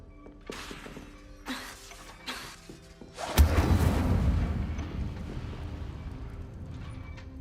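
In Hogwarts Legacy, short magical spell sounds are followed by a loud burst of the Incendio fire spell, a sharp crackling ignition that fades into a lingering roar.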